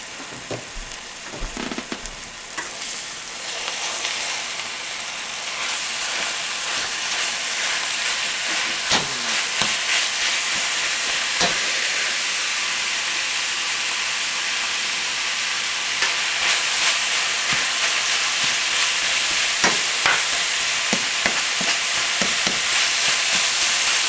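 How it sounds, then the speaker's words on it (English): About a pound of hamburger meat browns in a pan for spaghetti sauce, giving a steady, close frying sizzle with occasional scrapes and clicks of stirring, continuous and without talk. "we want to just brown this hamburger"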